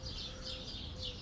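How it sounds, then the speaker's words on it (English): Birds calling in a garden around trees at sunset: soft repeated cooing and chirping phrases, moderately close, over a low background rumble. "there are a lot of birds in the garden where I live"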